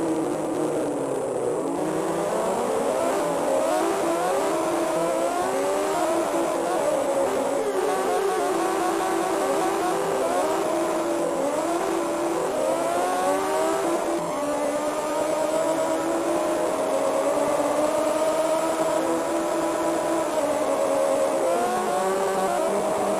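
The Honda RVF motorcycle engine in an Amiga racing game, a synthesized whine that rises and falls in pitch as the bike accelerates and shifts, continuous and fairly loud throughout.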